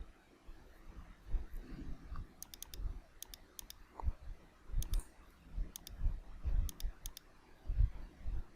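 Crisp computer mouse clicks while drawing with the curvature tool in Photoshop, coming in quick doubles and triples against low background rumble, close and fairly quiet with no voice.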